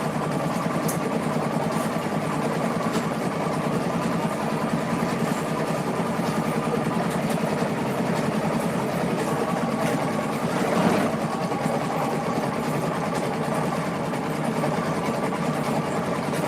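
A sewing machine winds bobbins with a steady, even mechanical whir, humming continuously at close range and moderate loudness with no voices over it.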